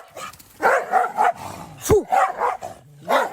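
Two dogs chained up together bark and snarl at each other in a fight, loud and close with bursts of yelps and growls, while a person briefly shouts a command.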